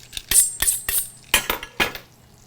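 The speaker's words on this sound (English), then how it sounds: "I'm gonna go ahead and cut this cake for my strawberry shortcake" A knife cutting cake for strawberry shortcake, a run of sharp clinks and taps as the blade meets the plate, six or so distinct hits in uneven rhythm, close and clear with no talk.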